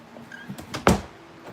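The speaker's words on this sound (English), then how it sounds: "And I shut this door." A door shut with a single sharp thud in a quiet indoor room, preceded by faint handling rustles and followed by a short decay into near silence.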